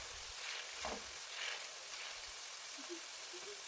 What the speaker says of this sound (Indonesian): terus kita aduk-aduk ya agar nanti tidak gosong dan matangnya merata